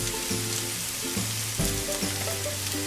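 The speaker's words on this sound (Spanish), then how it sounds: "Vamos a agregar el cilantro." Chopped cilantro tossed into onions frying in a pan over medium-high heat for chipotle shrimp, giving a loud, continuous oily sizzle with a few stirring scrapes and bursts, close up, no talking.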